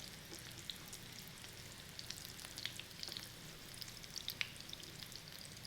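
Salmon cakes sizzle steadily in a pan of hot oil, a close, even crackle with scattered sharper pops throughout, with no talking over it.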